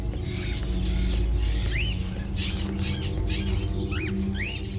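Birds in Indigo Prophecy chirp and tweet repeatedly with short rising calls over a steady low hum, moderately close and without any talking.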